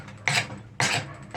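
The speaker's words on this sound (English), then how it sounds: "Now we're going to take our handy dandy draw knife and just carve a little bit off of this all the way around" Two rough rasping scrapes of a draw knife shaving wood from a hand-forged 4lb straight peen hammer's wooden handle, close and evenly spaced, with a third stroke just starting.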